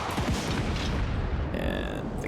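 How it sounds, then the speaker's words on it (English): Crane Gunners' cannons firing in Total War Warhammer 3, a few low booms over a dense, rumbling battle din at moderate loudness, without clear talk. "And the cannons continue to fire."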